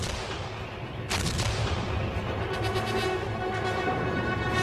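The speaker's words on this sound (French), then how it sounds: "les Alliés procèdent à un bombardement massif avec l'artillerie navale" Massive naval artillery bombardment at Anzio in 1944: a dense, continuous roar of gunfire, with a sharp heavy blast about a second in and then rapid repeated reports.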